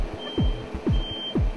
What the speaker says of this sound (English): A crane truck that can lift up to 65 tons is backing up towards the site